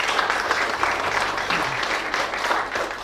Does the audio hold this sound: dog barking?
no